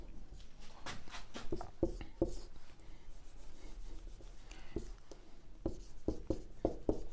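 Notes handwritten on paper, pen strokes scratching in quick irregular bursts with short pauses, close and fairly soft.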